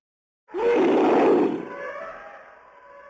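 An elephant call plays as a sound effect: a single loud trumpeting roar about a second long, then a trailing, fading rumble with a lingering high tone, heard alone.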